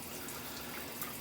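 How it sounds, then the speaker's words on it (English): Shower water runs in a steady, faint hiss with no talk, a soft continuous spray filling the short moment. "so I'm in the shower"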